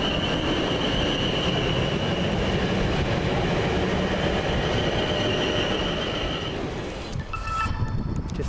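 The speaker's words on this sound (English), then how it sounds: "Just now leaving with 1350 from London Waterloo to Portsmouth Harbour, 450-120." A Class 450 electric train, unit 450-120, pulls out of Havant on a service from London Waterloo to Portsmouth Harbour, a steady loud rumble of wheels with a sustained whine, easing off near the end.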